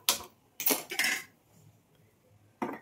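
A metal pot of wood apple chutney clanks onto a stove in a few sharp metallic knocks and rattles, close up, followed after a pause by one more clank.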